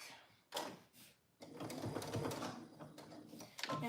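A sewing machine stitches the straps and armhole binding of a pillowcase-style sundress in quick, close whirring bursts, stopping briefly before running steadily again.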